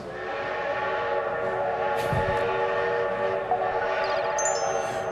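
A train sound effect used as a jingle for a TV news segment, with a loud steady chord of whistle or horn tones running the whole time over rumbling rail noise and no talking.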